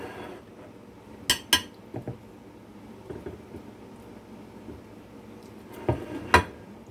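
Cutlery and dishes clink while cabbage beef stir fry is plated around rice, with sharp metallic taps and scrapes in small clusters, close and fairly loud, over a quiet room hum.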